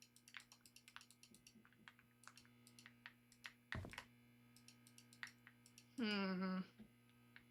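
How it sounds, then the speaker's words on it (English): Quick, light clicks from a computer mouse and keyboard during late-night play of The Painscreek Killings, tapping irregularly and close under a steady electrical hum, with one louder thump and a brief tonal in-game sound. "You're furiously clicking everywhere."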